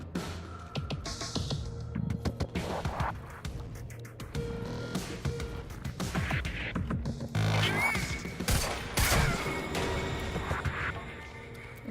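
Pistol fire in the video game Quantum Break, scattered sharp shots and impacts amid chaotic combat noise and crashes, dense and continuous over the whole stretch.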